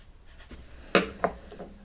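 Pen writing numbers on a paper cash envelope, a few soft scratchy strokes with two sharper taps near the middle, close and quiet, no talking.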